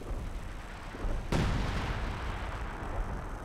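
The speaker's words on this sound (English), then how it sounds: "Zeroing artillery." Artillery fire in Company of Heroes 2 during a 2v2 match: a single loud, sudden blast lands partway through, then a rumbling roar lingers over continuous battlefield noise.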